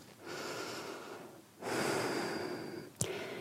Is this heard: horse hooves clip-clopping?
no